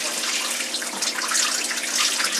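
Water rushes steadily out of a washer dryer's drain hose in an off-grid tiny house, a continuous hissing splash that stays loud and even throughout with no voices.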